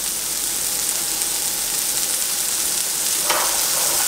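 Corn in a hot pan sizzles with a loud, steady, close frying hiss, seasoned with pepper and parsley. A brief scraping rustle near the end marks a toss.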